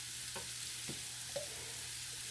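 Bacon or sausage pre-cooking in a pan for Southern-style baked beans, a faint steady sizzle with a low background hum and a few soft clicks, no talking.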